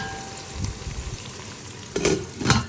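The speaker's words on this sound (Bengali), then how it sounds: "এখানে দেখলাম তো ডিমটাও ফ্রাইয়ের জন্য বসিয়ে দিয়েছি" An egg fries in a pan on a home stove, giving a steady close sizzle with a couple of louder bursts of crackle and clatter near the end, no voices.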